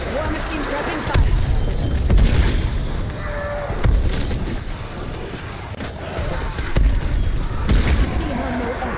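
Grenade launcher blasts from the War Machine in Black Ops Cold War zombies, several dull booms spaced a second or two apart over steady game noise and music, with a voice talking throughout.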